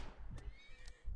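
Horse in the Rimworld video game whinnying after being struck by a stray bullet: two short, high neighs about half a second apart, close and alone over a low game rumble.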